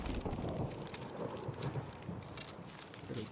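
Thunder from a lightning effect rumbles over rain in the shooter game Escape From Tarkov, a dense, loud, continuous roar filling the short stretch.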